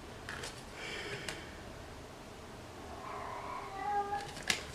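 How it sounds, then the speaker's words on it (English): A house cat gives a couple of faint meows in a quiet room, soft and somewhat distant, with a small tick near the end. "the cat is speaking again"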